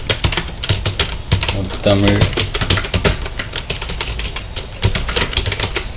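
Rapid, steady keystrokes on a computer keyboard while entering text for an invitation design, clicking densely throughout with a brief tonal sound near the middle.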